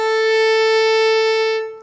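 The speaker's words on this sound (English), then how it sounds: "open A string," Open A string on a violin bowed as one steady, bright sustained note, close and solo, tapering off near the end.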